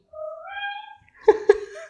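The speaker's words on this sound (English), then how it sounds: "that was my cat." A pet cat meows alone, a drawn-out, wavering call followed by two short, sharp meows close to the microphone.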